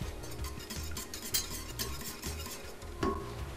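Pizza ingredients with dry basil being stirred and mixed in a bowl, close scraping and clinking strokes in an irregular rhythm, with a couple of louder knocks, no talk.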